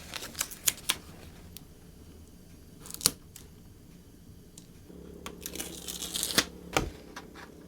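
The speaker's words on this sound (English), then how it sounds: "So I have some double-sided tape, some carpet tape, and I'm going to get the cloth stuck down to this." Double-sided carpet tape is handled while cloth is stuck down on a homemade dog scratching box, giving sharp crackling tears, snaps and rustling crinkles in irregular bursts close by.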